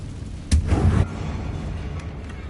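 A Confringo blasting spell in Hogwarts Legacy goes off as a single sharp boom with a short rumbling burst, fairly close and loud, then fades into ambient game noise.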